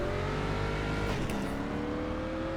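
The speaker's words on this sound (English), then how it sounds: "I gotta put it in gear to go, I guess." Stock car engine in iRacing, a street stock racer at Stafford, holding a steady loud drone that shifts pitch about midway as it is put in gear and pulls away, with no talking.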